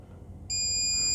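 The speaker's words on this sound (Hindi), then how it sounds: "पिन नंबर 3 और 5 आपस में बीप दे रही है।" A multimeter continuity beep sounds across pins 3 and 5 of a mobile phone SIM card socket: a sudden, steady, high electronic tone starting about halfway through and holding loud to the end, with no talking.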